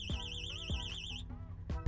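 A Ubiquiti alarm sounds in a warbling electronic siren tone for about a second before cutting off, followed by a faint chirp and low background rumble.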